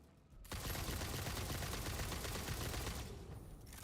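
Gunfire in the Satisfactory video game erupts as a sustained, dense burst of rapid shots lasting about two and a half seconds, loud and close, then cuts off into quieter background.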